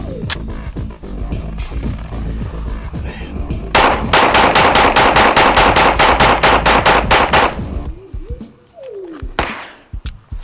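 Rapid string of about a dozen gunshots from an original Smith & Wesson M&P 9mm pistol at a shooting range, loud and close in quick even rhythm, with sharp single reports before and after the burst.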